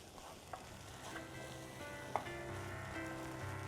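Ponnanganni greens with moong dal are stirred in a pan, a soft steady sizzle with a few faint scrapes, heard up close and quiet.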